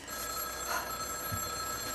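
Old-style telephone bell ringing in a French comedy scene, a sustained bright metallic ring with steady tonal harmonics, moderately loud and alone with no talk over it.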